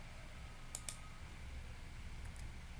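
Two quick, faint clicks come close together from a computer keyboard as the Enter key is pressed, set against a quiet room hum.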